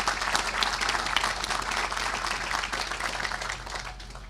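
A crowd at a stadium topping-out ceremony claps steadily for a university football head coach, a dense, sustained round of applause that tapers slightly toward the end, with no talk over it.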